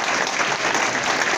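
An audience at a Lincoln Day Dinner claps in sustained, dense applause, loud and even from start to finish, with no voices standing out.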